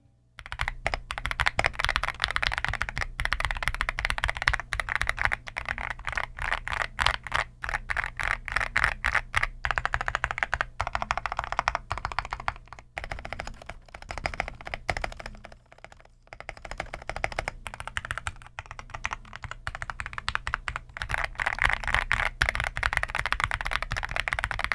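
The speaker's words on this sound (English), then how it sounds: "let's do a quick little sound test before I plug it in" Typing on an EPOMAKER SHADOW-S mechanical keyboard, a steady run of close, crisp keystrokes for the whole stretch, with a brief slowdown partway through and no talking.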